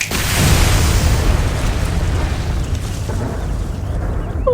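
A fire snap attack in Final Fantasy XVI sets off a loud, roaring blast of flame that bursts out at once, then rumbles and crackles as it slowly fades, with no voices.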